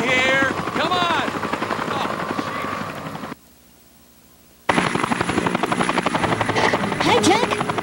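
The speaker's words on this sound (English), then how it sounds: "News chopper. Right across from you." A news helicopter hovers close by in the Dead To Rights video game, its steady rotor thrum and whine loud throughout, broken by a short near-silent gap before resuming at full strength; no voices.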